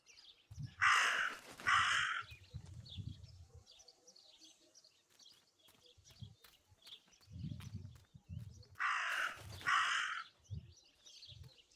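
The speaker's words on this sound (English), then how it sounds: "That raven is making a big fuss." A raven caws in the game Martha Is Dead, two loud bursts of harsh croaking calls several seconds apart, with softer low thuds and rustles between them.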